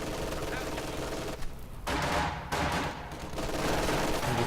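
Bursts of MG42 machine-gun fire from Company of Heroes 2, dense and loud, come in rapid volleys broken by short pauses, with overlapping battlefield gunfire and commentary voices talking underneath throughout.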